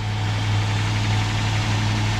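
A Ford Ranger pickup with a 4.0 V6 swapped in for its original 2.8 V6 idles steadily, giving a continuous low droning hum and even mechanical vibration with no voices.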